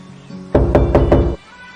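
Four firm knocks on a door in quick, even succession, close and loud, set against a quiet room.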